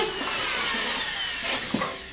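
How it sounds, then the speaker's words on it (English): A screw gun with a magnetic tip drives drywall screws through gypsum board into wood, giving a continuous whirring grind with brief bursts as each screw seats. "There's no real option to a screw gun with a magnetic screw tip for this job."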